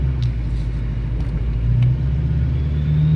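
A lifted Duramax diesel truck on 22-inch wheels pulls out of a tight parking lot, its engine a deep, steady close rumble that swells slightly as it moves off.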